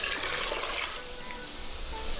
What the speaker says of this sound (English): I'm gonna add a bunch of water now